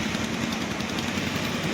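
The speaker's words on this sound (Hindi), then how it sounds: "तो मोटर बाइक पे जी जाएंगे, मेरे साथ रहिएगा" A motorbike engine idles close by with a steady, rough, even putter that holds unbroken throughout, with no talking over it.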